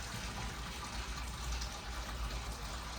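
Water from a pot of boiled turnip drains away in a continuous close gush, steady and fairly loud throughout.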